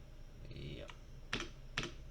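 Computer keyboard keys pressed during 3D modeling work, two or three separate sharp clicks spaced about half a second apart, close and quiet over faint room hum, with a brief voice at the start.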